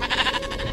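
Sheep in Minecraft bleat loudly in a short, wavering burst that dips and swells, a penned flock sounding alone with no talking.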